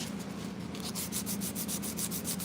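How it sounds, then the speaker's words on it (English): Hand sanding of a knife handle with 120 grit sandpaper wrapped on a foam block: a steady, close rasping rub in quick regular strokes, with no voices. "Like I said, this is 120 grit. And work each grit by hand."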